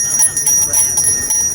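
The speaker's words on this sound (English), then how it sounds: "It's a familiar tone every holiday season, the sound of a Salvation Army bell ringer." A Salvation Army bell ringer's hand bell ringing in quick repeated strokes, bright and close, with a faint voice underneath.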